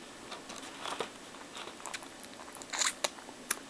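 Crunchy bites into a piece of red raspberry rock candy, sharp brittle cracks clustered near the end, close and fairly quiet with faint crackling between bites.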